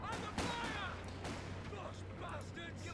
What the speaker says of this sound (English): MG opening fire